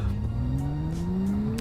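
A test car in the Roblox game Greenville Wisconsin braking and crashing: a steady engine tone rising slightly in pitch with a faint squeal, heard alone and up close, without a clear impact.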